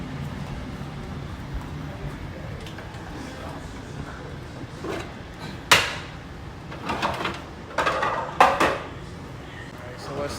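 A food processor comes out of a kitchen cabinet: a drawer or cupboard slides, then sharp clunks and rattles of plastic parts are set down nearby, over a faint room hum and some quiet talk.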